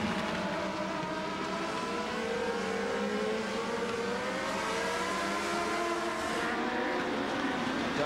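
Several race cars in a close four-car battle at a 1996 short-track event roar steadily around the track, with engine tones rising and falling as the cars pass, loud and continuous, no talk.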